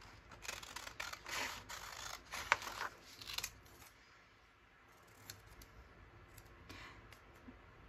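Scissors snip out stamped paper labels in a string of close, crisp cutting bursts and paper rustles during the first half, then quieter sparse handling noises follow, with no talk.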